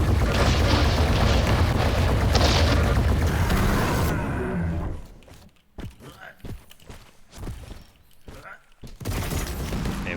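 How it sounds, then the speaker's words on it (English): Artillery bombardment in a strategy video game, a dense rolling roar of explosions that suddenly drops away, followed by scattered sharp booms and blasts at varying loudness. "Bombardment begins."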